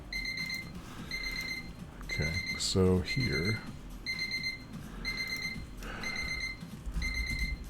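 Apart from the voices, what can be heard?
timer alarm going off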